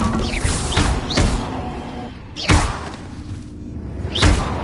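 Repeated Bombarda blasting-spell impacts from the Hogwarts Legacy game, heavy thudding booms with whooshing tails, about four strikes spaced unevenly, loud and close.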